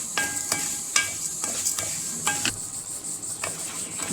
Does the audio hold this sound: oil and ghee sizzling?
yes